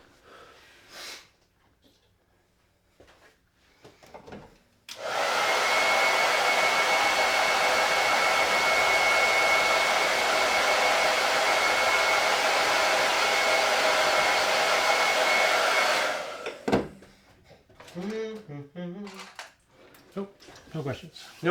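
A hair dryer blows on a Chalk Couture chalk transfer, a loud, close, steady whoosh running for about eleven seconds, with faint handling noises and voices before it switches on and after it stops.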